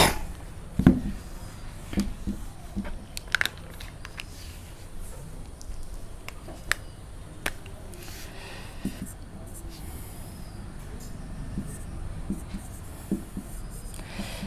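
Scratchy strokes of writing on a board during a classroom history lesson, soft and continuous with scattered sharp taps, close and alone, with light background hiss.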